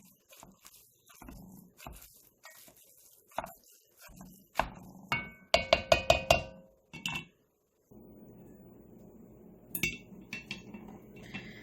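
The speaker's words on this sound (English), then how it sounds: "They're designed specifically for this purpose, and that's to help chop up your ground beef." A plastic Dollar Tree meat chopper works ground beef in a pan, giving irregular knocks and scrapes that come in a quick clustered burst midway and then settle over a low sizzle, close up and with no speech.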